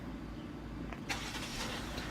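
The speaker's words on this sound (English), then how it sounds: "Pardon the car. My mom's leaving for somewhere right now." A car leaves as it is driven away, a low engine rumble running steadily in the background with a brief louder burst midway, fairly faint and distant.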